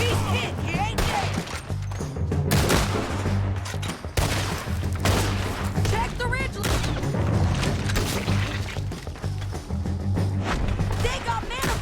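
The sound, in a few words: gunfire in video game Red Dead Redemption 2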